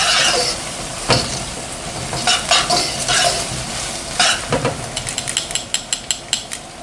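Oil sizzling in a carbon steel wok being seasoned, a bright steady fry noise punctuated by metal scraping and tapping, with the strokes turning quick and rhythmic toward the end.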